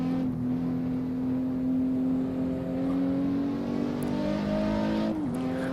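Car engine in Assetto Corsa at about 130, a steady loud whining drone climbing slowly in pitch, then dipping with a gear change near the end.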